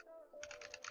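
Rapid keystrokes on a computer keyboard while entering a command in a Minecraft server setup, a steady run of close, crisp clicks lasting under a second.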